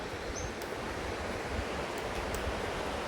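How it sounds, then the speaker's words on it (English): A river rushes beneath a bridge on a hiking trail, a steady broadband roar of flowing water that fills the scene without pause, with faint wind and a few small ticks on top. "There's the river."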